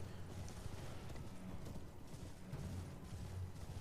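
Horse hoofbeats from Elden Ring, a steady, fairly close clip-clop rhythm of a galloping mount that runs the whole way through, with no talk over it.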